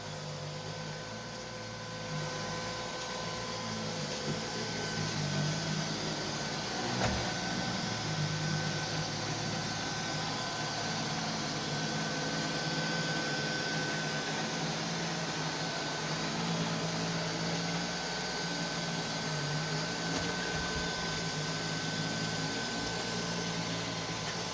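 A Neato D7 robot vacuum runs indoors with a steady whirring hum and faint motor whine, constant and close as it works its way around cords and a lamp.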